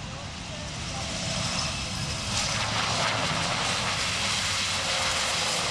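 A prototype aircraft comes in to land at the Royal International Air Tattoo air show, a steady engine drone under continuous public-address commentary.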